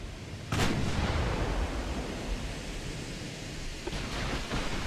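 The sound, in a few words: warship USS Long Beach firing its guns, from video game Ultimate Admiral: Dreadnoughts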